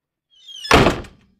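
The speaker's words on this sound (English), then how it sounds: "Another door creaks open, then shuts closed." A door swings and closes with a single solid thunk, preceded by a brief rising scrape, heard close and alone with nothing else around it.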